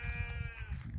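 A goat on a village farm in Malaysia lets out a close, sustained wavering bleat over a dense, rumbling background of livestock and outdoor noise.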